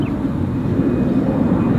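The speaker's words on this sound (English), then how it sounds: "These planes must be taking off 30 seconds apart, and this is only a little country regional airport" Airplane taking off from a small country regional airport, a steady loud low engine roar with no break, close and alone without voices.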